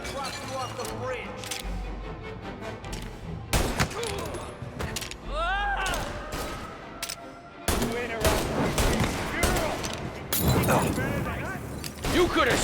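Rapid bursts of gunfire in the video game Mafia Definitive Edition, with loud shots and volleys spread across the scene, mixed with shouted voices and other game sounds.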